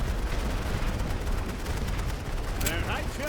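Rifle gunfire in a Great War Western Front battle game, dense overlapping shots and rumbling bursts that run on without pause, with a faint whistling sweep near the end.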